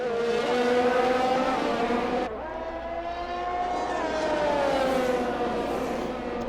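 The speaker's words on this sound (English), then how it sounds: "Williams versus AlphaTauri drag race down the straightaway" Simulated F1 race cars from a video game, a Williams and an AlphaTauri, scream side by side down a straight, with loud sustained high-revving engine whines that shift pitch as they change gear.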